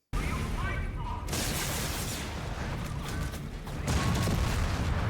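A Panzerwerfer rocket launcher explodes in Company of Heroes 3, a loud booming blast with mechanical clanks and further heavy impacts in a dense battle mix, with a voice heard briefly.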